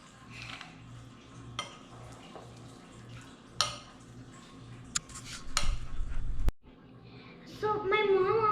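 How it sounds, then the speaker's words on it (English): A spoon stirs and mashes edible play dough made from cereal in a bowl, giving soft scraping and occasional clinks against the dish, fairly quiet and close, with a voice speaking briefly near the end. "I'm just gonna continue mixing."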